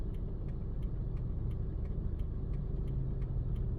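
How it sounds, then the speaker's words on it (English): Busy road traffic heard from inside a car on a driving test route: a steady low engine and road rumble with regular faint ticking like a turn indicator clicking throughout. "So this is a quite busy road"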